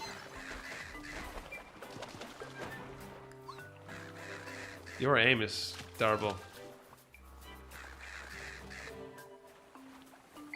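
Summoned birds in Zelda: Echoes of Wisdom give a pair of loud, close, warbling cries over game music and sound effects, with someone speaking briefly.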